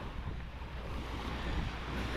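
Waves washing onto a white-sand beach strewn with clam shells at Progreso, Yucatán, heard as a steady, close surf roar blended with wind rumble on the microphone, with no voices.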